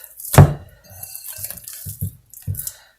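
Hands being rinsed under a running kitchen tap after mixing a flour-and-water bread dough, water splashing and sputtering in uneven bursts, close and moderately loud with no voices.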